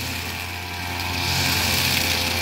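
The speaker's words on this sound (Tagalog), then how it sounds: "yung tauhan natin na si Leopoldo Umbiang ay kasalukuyang nag-grass cutter sa nililipatan ng ating munting manukan" A grass cutter runs steadily throughout while clearing ground for a small chicken-ranging area, a continuous engine drone with a high whine that grows slightly louder toward the end, with no talking.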